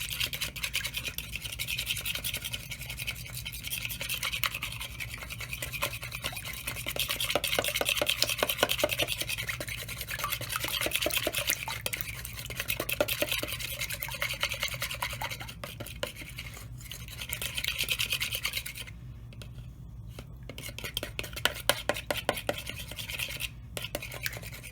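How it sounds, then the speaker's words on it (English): A regular fork beats eggs in a bowl to break up the yolks, a steady rapid scraping and tapping rhythm that continues for a long stretch with brief pauses near the end. "just like to take a regular fork and just really work it. Get those eggs, the yolks, really broken up"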